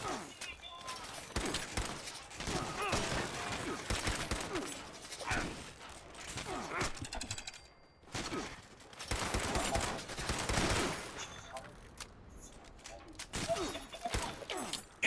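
Fallout 76 video game gunfire comes in dense, rapid bursts of shots and crashing impacts over fifteen seconds, loud and continuous with brief gaps, mixed with game sound.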